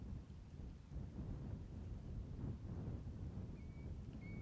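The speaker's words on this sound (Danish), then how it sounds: "Det er torden og drittvær på gang." Distant thunder rumbling through stormy weather on the open fjell, a low, rolling growl over steady wind noise, swelling and fading without sharp cracks.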